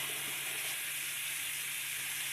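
Ham steaks cook on an Ozark Trail griddle, giving a steady, even sizzling hiss with no pauses and no talking.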